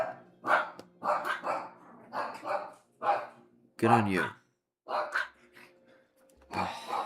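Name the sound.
dogs barking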